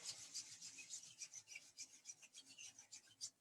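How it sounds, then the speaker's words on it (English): Two palms rubbed briskly together in rhythmic strokes, a soft dry swishing rasp repeated about a dozen times, close and fairly quiet, with no talking. "So let's rub our hands together."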